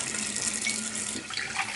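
Tap water runs steadily into a clean cup at a kitchen sink, a close, continuous splashing gush whose pitch shifts slightly as the cup fills, with no talking.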